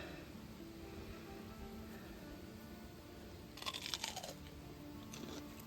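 Crisp crunching bites into a mild, jalapeno-like garden pepper: a short close burst of chewing crunches, then a softer one, over quiet outdoor background.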